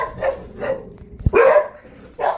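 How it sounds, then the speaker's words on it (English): Household dogs barking in a few sharp, close barks and yips at irregular intervals, loud indoors with no talking. "Excuse me, hold on, my dogs."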